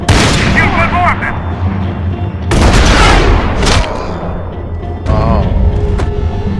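Gunfire in the video game Max Payne 3, loud bursts of rapid shots and booming impacts in several dense clusters, with voices shouting over the shooting.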